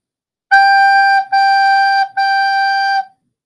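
A recorder sounds the note G three times in a row, each a clear, steady held tone close by with short breaks between, and no other sound around it.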